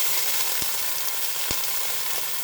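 Grape tomatoes hit a hot pan and sizzle loudly and close, a dense continuous hiss with a couple of sharp pops or taps standing out along the way.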